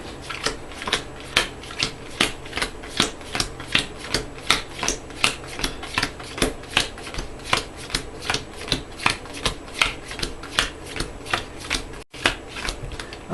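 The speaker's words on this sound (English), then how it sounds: "Shuffle the encounter discard pile into the encounter deck." A deck of game cards being shuffled by hand, a long run of crisp, rapid riffling snaps in a steady rhythm, close and alone.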